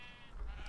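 A single sheep bleat in Minecraft with the Little Helpers mod, a short nasal wavering call near the listener, with quiet low rumble underneath and no speech.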